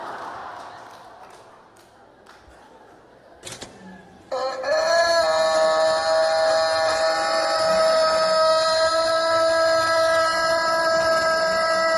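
A rooster crows in one long, loud, sustained cock-a-doodle-doo played inside a church sermon hall, cutting in sharply after a stretch of low murmuring room noise and holding steady to the end.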